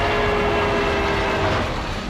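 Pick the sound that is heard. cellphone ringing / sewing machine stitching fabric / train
train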